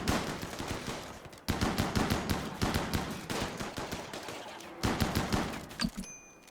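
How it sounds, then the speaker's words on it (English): Colonists fire guns in a RimWorld battle, rapid bursts of sharp shots in dense volleys broken by brief pauses, loud and alone without talk. "Shoot all of them first."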